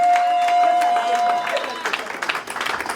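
Church congregation applauding and cheering during a special worship service, a dense wash of clapping and crowd noise building after a sustained tone, with a voice mixed into the crowd.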